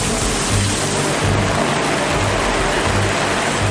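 Heavy rain pours steadily in the Nilgiris hills, a loud, dense, unbroken hiss with no pauses.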